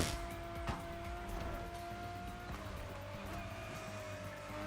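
A Mercedes concept car boosting on nitrous in The Crew Motorfest, a sustained racing engine whine with rising pitch, tire noise and short squeals, steady and fairly close throughout.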